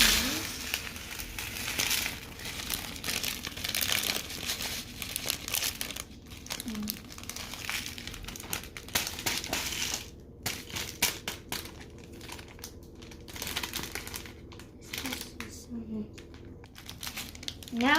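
Instant noodle sauce packets, one sour sauce, crinkle and crackle close up as they are handled and cut open, with bursts of rustling throughout and someone talking intermittently.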